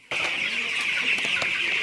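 Young broiler chicks raised for meat on a farm, clucking and cheeping continuously at close range, a dense flock chatter with occasional sharper peeps standing out.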